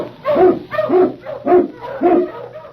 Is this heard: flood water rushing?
no